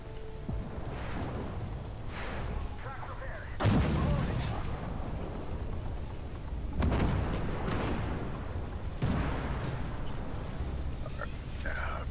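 A tank main gun in Armored Warfare fires through a full autoloader clip: four heavy, booming shots spaced a few seconds apart, each with a rumbling tail. Voices talk between the blasts.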